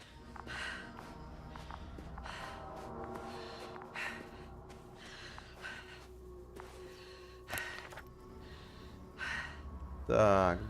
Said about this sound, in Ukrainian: Чого ж воно так дихає важко?